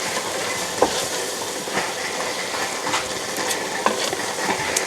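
Chicken paprikash stirred in a sizzling pot, a steady wash of frying hiss with soft scraping strokes of the spoon recurring every second or so, close and even throughout.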